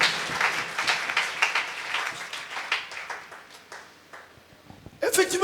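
A church congregation at a Wednesday service claps and cheers in praise, sustained lively applause with voices mixed in, fading slightly before a sharp burst at the end.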